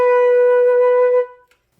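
A single flute note B is held steady and clear for just over a second, then cut off cleanly, with a faint breath or click just after.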